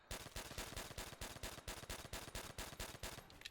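Rapid automatic gunfire from a weapon in Call of Duty: World at War zombies, a continuous burst of about fifteen evenly spaced, punchy shots at a fast steady rhythm, close and alone.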